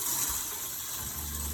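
An RV's onboard water pump runs as the system pressurizes, giving a steady broadband rush of flowing water with a low continuous hum throughout, close and even in level, with no voices.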